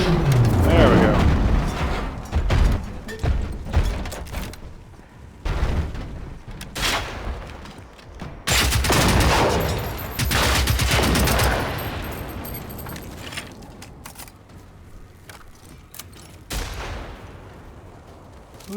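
Bursts of gunfire and booming shots in Generation Zero, loud irregular volleys separated by short pauses, with some quieter mechanical noise toward the end.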